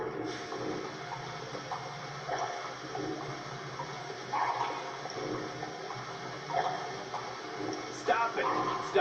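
Water pours and splashes steadily through a torture scene in the video game GTA 5, with a continuous gushing wash and brief louder surges, heard alone.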